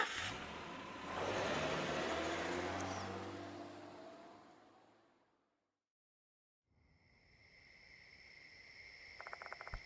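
A car engine in the video game Death Mark 2, parked near a school, rumbles and revs, then fades to silence; afterward an insect chirp and faint night ambience take over.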